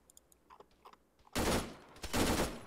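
Dense bursts of automatic gunfire from an ARMA 3 firefight, loud and sustained for over a second, a short gap, then another heavy volley, preceded by faint scattered clicks.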